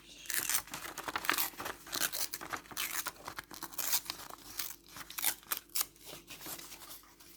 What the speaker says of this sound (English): Should be able to get a piece out of this bit of paper. Hopefully, my ripping skills aren't actually the best,